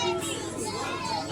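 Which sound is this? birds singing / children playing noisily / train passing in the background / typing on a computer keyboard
children playing noisily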